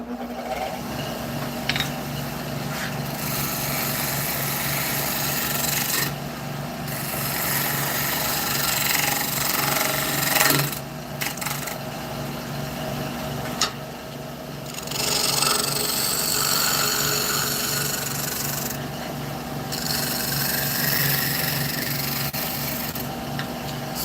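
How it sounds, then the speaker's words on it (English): Scraper edge shear scraping a cherry wood bowl on a lathe, a continuous close rasping, rubbing hiss over the lathe's steady hum, briefly easing off now and then, with no talking. "what I'm doing here is called shear scraping, and you take the edge and it cuts these really fine"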